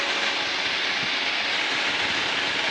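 Zenith STOL CH 750 light sport aircraft banking through a turn in flight, a constant loud broadband engine and wind roar heard from inside the cabin, steady and unbroken.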